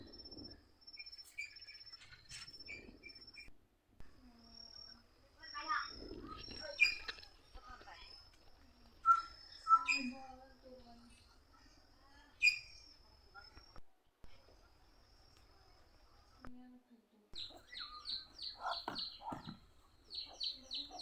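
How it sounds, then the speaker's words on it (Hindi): Many birds, including mynas, call near a house in the evening: a busy mix of chirps, whistles and chatter, close and fairly clear, with a person talking at times. "यहाँ पे बहुत सारा पक्षी आ गई है। देखिए वो क्या बोलते हैं"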